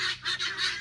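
Guinea fowl call loudly inside a chicken pen, with rapid harsh honking cries repeating in close, pulsing bursts.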